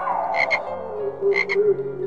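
Frogs croak in paired rapid bursts, two double croaks spaced about a second apart, laid over soft music as a sound effect in a radio story about a vain moon.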